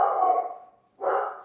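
Dogs barking on a horse farm: two loud, close barks, the first drawn out and fading, then a short gap before the second sharp bark, with no talk over them.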